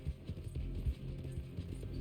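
A horse gallops in Red Dead Redemption 2, with rapid, muffled hoofbeats thudding in a steady rhythm under a low hum, fairly quiet.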